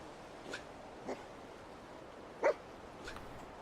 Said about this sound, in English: Playful bark.